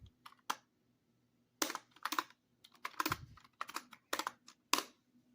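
Fingers type on a computer keyboard at a terminal, striking keys in quick bursts of clicks with short pauses between, close and fairly quiet, with no speech.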